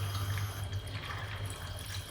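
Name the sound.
squeezing water out of soaked gelatin sheets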